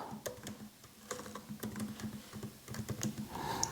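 Steady run of computer keyboard keystrokes, quick and uneven in rhythm, close and moderately loud with no voices.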